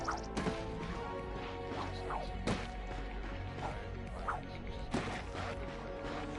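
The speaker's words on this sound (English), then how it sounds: "Look at him smashing crates." Ratchet smashes crates in a Ratchet & Clank video game: sharp wooden cracks and thwacks land in an irregular series over busy game sound, with a voice briefly audible among them.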